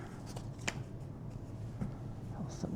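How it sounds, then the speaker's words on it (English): A tarot deck being cut and reshuffled by hand, a quiet, soft riffling and flicking of cards with a few crisp snaps, close and faint, with no one talking. "I'm just gonna cut these and put them back together and shuffle again."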